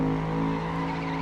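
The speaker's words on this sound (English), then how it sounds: "As I shift down into third gear for that corner" A race car in the FlatOut driving game downshifts into third gear for a corner, a steady loud engine drone with strong harmonic whine and faint tire squeal, heard alone without talk.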